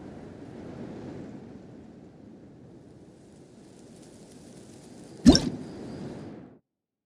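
Steady wind whooshes broadly through a video game scene, a continuous rushing bed that swells slightly before a sharp loud burst near the end, then cuts off abruptly.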